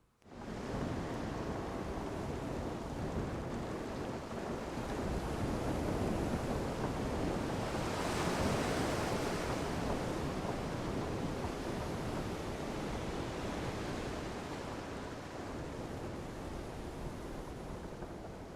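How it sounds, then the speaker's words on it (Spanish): Calm sea waves as an audio drama effect, a steady, dense wash of surf that holds at an even level throughout with no voices. "El mar estaba en calma"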